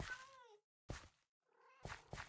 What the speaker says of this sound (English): Look at all these cats.